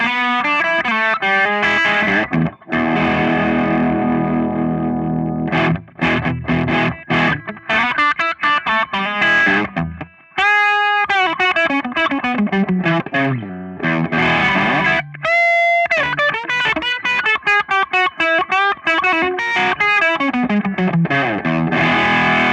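An electric guitar with PAF-style humbuckers runs through overdrive, playing a loud, sustained run of driven chords and single-note lines with a few brief pauses and ringing held notes.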